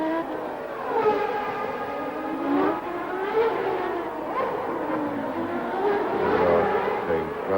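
Formula 1 cars racing at Monaco in 1990, including a Lotus Lamborghini, engines wailing and rising and falling in pitch as cars pass, loud and continuous.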